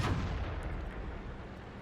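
A tank shell ricochets off a turret roof in the World of Tanks video game, heard as a loud, dense blast with a sustained rumbling roar that barely fades over under two seconds, with no talking.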